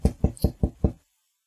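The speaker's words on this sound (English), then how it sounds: "She hears the knocking on the door," Five firm, evenly spaced knocks land on a door in quick succession, close and solid, then silence.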